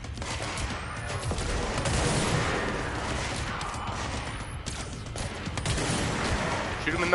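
Gunfire in the video game Control, dense bursts of shots and impacts blending into a busy, noisy battle mix, moderately loud and continuous.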